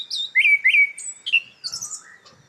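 A forest songbird recording from Sichuan, played back during a lecture. It gives a quick series of bright, clear whistled and chirping notes with short gaps between them. No talking.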